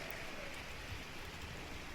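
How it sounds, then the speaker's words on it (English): Steady rain weather effect in the video game Cataclysm: Dark Days Ahead, a continuous even hiss of falling drops at moderate, unchanging level throughout, with no talk over it. "So it's going to be a little bit quieter while we are dealing with this rain"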